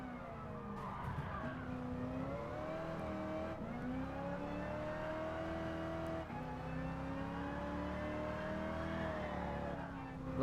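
Car tires slip and slide in a Gran Turismo Sport race at a nostalgic car festival, with a steady engine drone and shifting pitch running almost the whole time.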